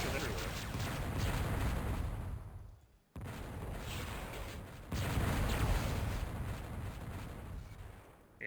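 Fusion rifle shots in a competitive video game match, sustained crackling energy blasts filling the mix in dense bursts, heard beneath an excited commentator's play-by-play.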